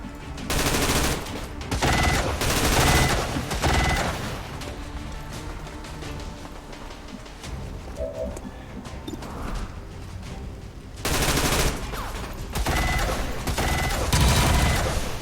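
Bursts of automatic gunfire from a turn-based tactics game battle, heavy sustained volleys for the first few seconds, a quieter stretch of scattered shots and clatter in the middle, then loud rapid fire returning near the end.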